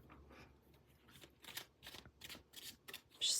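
A deck of tarot cards being shuffled close up, with a series of quick riffling bursts in an irregular rhythm, ending in a louder final riffle, and no talking.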